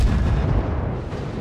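Naval guns thunder in World of Warships aboard the light cruiser IJN Kuma, a dense, loud, rumbling barrage of booms with no pause, heavy low-end roar filling the whole moment.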